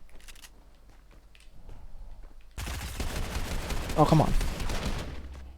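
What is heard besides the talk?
gunfire exchange in Fortnite, a video game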